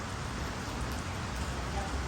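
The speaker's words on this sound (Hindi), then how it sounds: "देखिए कितना अच्छा मौसम है, बरसात हो रही है" Steady monsoon rain pours down outdoors in a green garden during a yoga session, a dense, even hiss of drops filling the whole stretch with no break.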